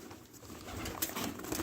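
Pigeons or doves kept in a cage with a young squab coo softly under a constant hiss of background noise. The low cooing is faint and blends into the surrounding room sound.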